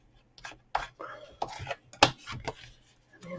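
Paper being scored along crease lines for paper florist table favours, a series of short scraping strokes and taps close by, irregular and spaced out, with soft noises between them.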